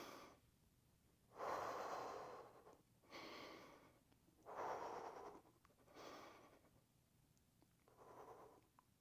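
Slow, deep breaths during an exercise routine, four or five drawn-out airy inhales and exhales in a steady rhythm, close and quiet.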